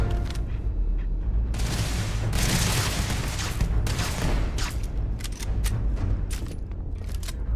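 Dense gunfire crackles and booms through a Starfield firefight, loud and close, with bursts of rapid shots followed by a string of sharp single reports near the end.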